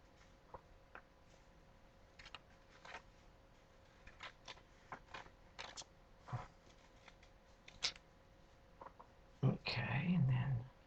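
Scissors cut paper just outside a drawn line in a series of faint, close snips and paper rustles at an uneven pace, ending in a louder burst of handling noise.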